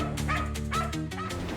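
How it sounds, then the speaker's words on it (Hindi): A dog barks and yips several times in quick succession, close by, with whimpering tones between the barks. "इसीलिए पिया का वो कुत्ता बार बार भौंक रहा था।"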